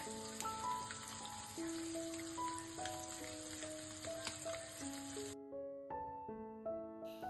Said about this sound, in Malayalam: ഓയിൽ ഇതുപോലെ നന്നായിട്ട് ചൂടായി വരുന്ന സമയത്ത് നമുക്കിതുപോലെ ഫിഷ് എണ്ണയിലേക്ക് ഇട്ട് കൊടുത്തിട്ടൊന്ന് ഫ്രൈ